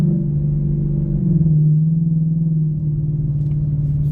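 A 2024 Ford Mustang GT S650 with aftermarket exhaust idles and burbles with a deep, loud, close rumble that swells briefly then settles back into a steady low drone, no voices.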